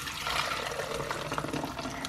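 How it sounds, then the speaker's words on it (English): Milkshake mix poured quickly into a frozen ice cream machine, a steady liquid gush running close and continuous for about two seconds, with no talking. "I'm gonna pour kind of quick so I don't drip"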